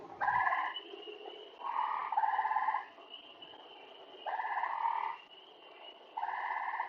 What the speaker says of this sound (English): This is the call of this other frog.